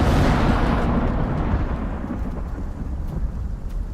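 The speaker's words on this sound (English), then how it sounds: "Oh great, a storm." A heavy thunderclap booms loudly at the start of a sulfuric storm in the survival game Icarus, then rumbles and slowly fades over a low continuous roar.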